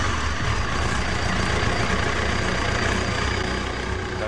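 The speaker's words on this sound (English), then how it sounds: "the bike powers up" A motorbike powers up after an RFID reader authenticates the rider, giving a steady, close, rumbling engine drone that holds at a constant level throughout.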